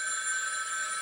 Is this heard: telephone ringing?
yes